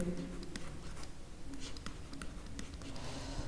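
Pen or chalk writing out a Pythagoras theorem calculation, a faint, continuous scratching with light taps and strokes under a steady low background hum, no talk.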